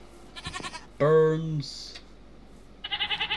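A goat called Snowball in Minecraft lets out one loud, wavering bleat lasting about half a second, close by. Brief game effects come before and after it, and a voice speaks during the clip.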